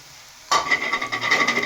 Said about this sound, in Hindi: अब इसको अच्छी तरह आप लोगों ने मिक्स करना है।